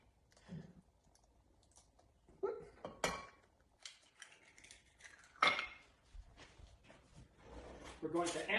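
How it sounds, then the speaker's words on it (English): Milk and an egg are mixed together with a utensil in a bowl, giving scattered clicks and scraping taps at an uneven rhythm, close and fairly quiet, with a voice speaking intermittently. "We're going to absolutely mix the two together in a beautiful way."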